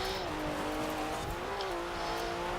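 Porsche 992 with a rear-mounted flat-six in Forza Horizon 4, built as a mountain rally car, engine droning steadily at high revs with slight pitch wavers, continuous and close.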